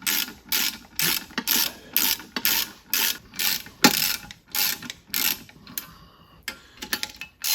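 A wrench ratchets in a steady series of clicking bursts, tightening bolts to lift the cylinder head off the block of a Ford Model A engine, close and alone, with brief pauses between strokes.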